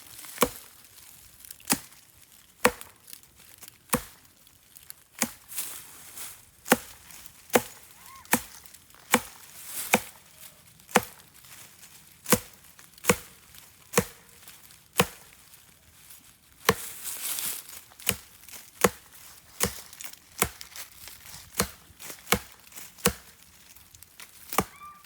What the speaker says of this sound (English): Actually, I'll just chop this one down even lower.